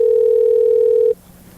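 A single steady telephone tone sounds loud and clear for about a second, then cuts off abruptly into quiet.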